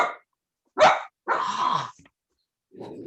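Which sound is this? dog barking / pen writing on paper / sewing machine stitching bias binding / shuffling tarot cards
dog barking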